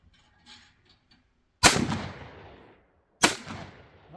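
A shotgun fires twice at a pair of clay targets, two loud sharp blasts about a second and a half apart, each trailing off in an echoing boom, after a few faint soft sounds.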